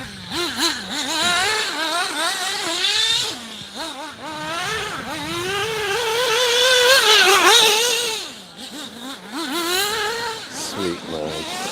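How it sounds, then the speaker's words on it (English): A nitro-powered RC car engine screams and revs at high pitch as the car races around a marl dirt track. The whine rises and falls with throttle through the corners, stays loud and close, and dips briefly before climbing again. "Wow, I love the sound of nitro though"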